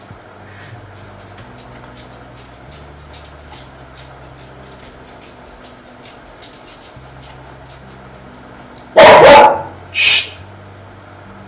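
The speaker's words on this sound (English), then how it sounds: "my dog was rummaging through it" A pet dog indoors gives two short, loud barks in quick succession near the end, after a long stretch of quiet low room hum; someone hushes it.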